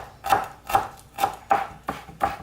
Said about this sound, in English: I'm gonna chop this one, and I'm gonna see how much I come out with.